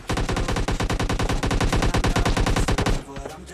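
Rapid, loud automatic bursts of AKM rifle fire in the PUBG Lite battle royale game, a steady stream of about three seconds of close shots before cutting off into a short echoing tail.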